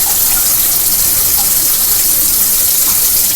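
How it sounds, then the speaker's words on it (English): Water gushing steadily from a tap into a cooking dish before it goes into the oven, a loud continuous splashing rush with no pauses. "So now I add water because I'm going to put this in the oven."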